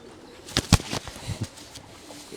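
A racing pigeon in its loft gives a few soft coos with some brief wing-flutter sounds. The calls are close, short and alone, with no talk.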